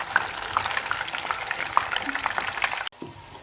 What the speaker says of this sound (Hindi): इस वक्त तक मैं इसके साथ चम्मच हिलाती रहूँगी और भूनती रहूँगी जब तक ये लाइट ब्राउन नहीं हो जाएगी